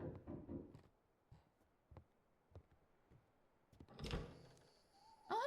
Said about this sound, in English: Sounds like someone's knocking on the door.